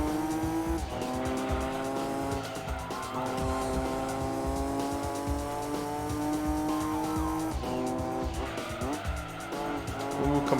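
Tires squealing and sliding as a 390 hp Nissan Skyline races in the video game Gran Turismo 2, a sustained engine drone with skidding screeches rising and falling, loud and continuous.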